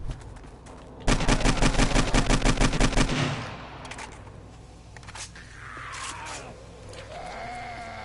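Rapid gunfire from a sniper rifle and a .44 pistol in the survival game 7 Days to Die: a loud burst of fast repeated shots lasting about two seconds, then quieter ambient game sounds with a faint whine.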